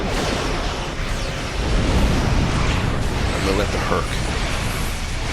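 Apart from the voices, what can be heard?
ships firing weapons and explosions, Star Trek video game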